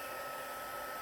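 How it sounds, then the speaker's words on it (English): A heat gun blows hot air over freshly painted cardstock, a steady close whooshing roar that holds at an even level throughout. "So I'm going to hit it with my heat gun real quickly."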